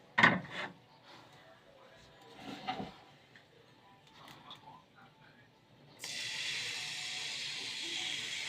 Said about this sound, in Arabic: هنصب العجينة بتاعتنا بقى